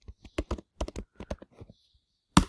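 Keys tapped on a Mac keyboard while entering a password, about a dozen crisp clicks in an uneven run with brief gaps, close and clear, ending in one sharper final press.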